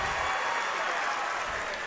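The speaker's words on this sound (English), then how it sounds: "The crowd was hollering." Crowd noise at a boys high school basketball quarterfinal between Alton and Bernie, a dense steady roar of applause and cheering that fills the whole moment.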